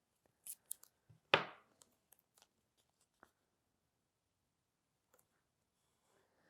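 Tape ripped off a roll in one sharp, close tear, followed by scattered soft taps and clicks as pieces are pressed and taped together in a quiet room.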